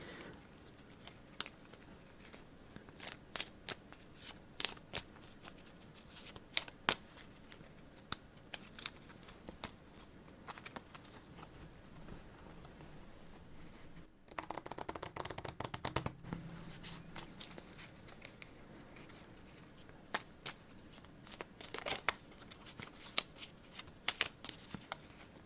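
Playing cards gathered up and shuffled for a redeal in a game of Montana (Gaps) solitaire: soft close taps, slides and riffles scattered over time, with a denser burst of shuffling midway, quiet and without speech.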